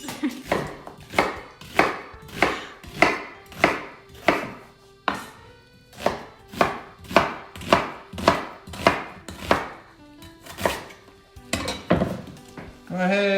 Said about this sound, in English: cut it up real nice and rough